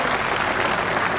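A bowls crowd at the 1982 Bass Masters semis and final breaks into dense, steady applause, loud and sustained with no voices standing out.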